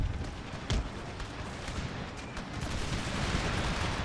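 Musket volleys and cannon fire in the video game Empire: Total War, a dense stream of booming shots and crackling gunfire mixed into a continuous loud battle roar.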